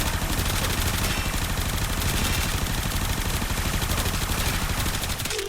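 The Supra Vandal fires a sustained rapid-fire burst in Warframe, a dense, loud stream of evenly spaced shots lasting several seconds with no voices over it.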